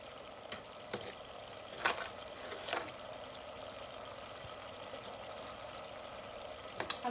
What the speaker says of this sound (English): So I have my masala or curry paste cooking up for a little.